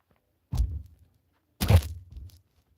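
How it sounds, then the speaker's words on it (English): Two distant booms of fireworks going off outside, each a dull thud with a short rumbling tail, spaced about a second apart against quiet. "People are doing fireworks already."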